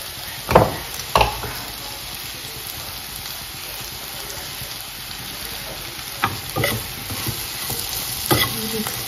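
Vegetable with garlic greens being stir-fried in a pan, a steady soft sizzle with several sharp scraping stirs of the spatula near the start and end.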